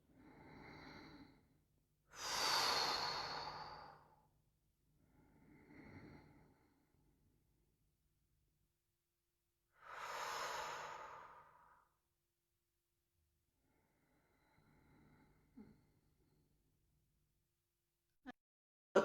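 Slow, deep exhalations during bio-energetic active meditation, several long breathy sighs spaced seconds apart, close and soft, alternating with quieter inhales in a silent room.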